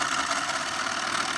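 A small S1 Energy model steam power station engine runs continuously, making a steady close hiss and chugging drone with a fast, even pulse and no voices.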